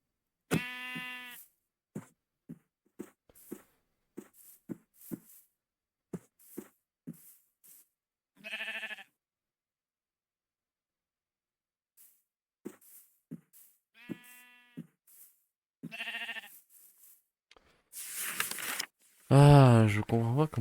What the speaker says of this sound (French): Ouais, j'ai un mouton.